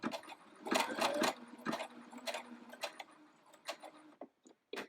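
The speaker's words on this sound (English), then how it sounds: "step on the pedal, and it's going to go ahead and take care of it" Sewing machine stitching a buttonhole, a rapid series of sharp mechanical clacks and ticks close up, slowing and thinning out toward the end as the stitching finishes.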